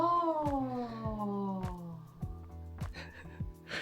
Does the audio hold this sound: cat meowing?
yes